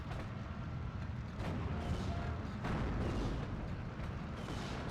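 Mortar fire in the WWII strategy game Steel Division, several muffled booms landing at intervals over a low, rumbling battlefield background.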